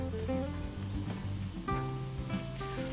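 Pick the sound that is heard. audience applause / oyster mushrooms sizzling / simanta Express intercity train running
oyster mushrooms sizzling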